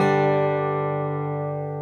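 A single guitar chord strummed with the A and high E strings muted, ringing out close and clear, then slowly decaying without any talk.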